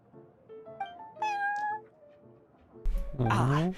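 A cat character in the video game Genshin Impact meows a few times in quick succession, then gives a louder, drawn-out meow, heard over faint game background sound.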